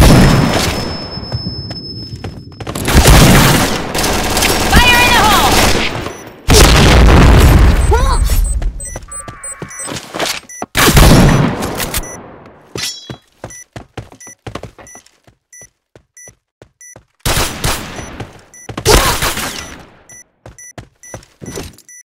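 Bomb explosions in the shooter game Point Blank, with several loud booming blasts and bursts separated by quieter gaps, over other game sound effects.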